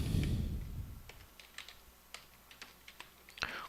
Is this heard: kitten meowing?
no